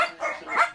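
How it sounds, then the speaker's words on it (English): Small dogs bark and yip in quick, shrill bursts, several overlapping in a confined room at a neglected breeding property, close and fairly loud, with no talking. "Room after room littered with small dogs."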